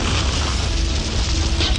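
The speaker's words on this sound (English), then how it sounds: "The tank's been blown to smithereens." A loud, sustained blast rumbles steadily as a gas tank is blown apart, a thick booming roar that holds near and heavy for its whole short length.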